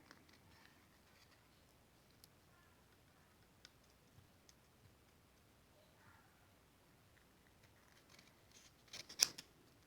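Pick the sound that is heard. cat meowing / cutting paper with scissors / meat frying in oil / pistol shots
cutting paper with scissors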